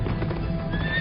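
A horse whinnies, its neigh rising over the rapid clip-clop of hooves, loud and close in a short burst with no voices.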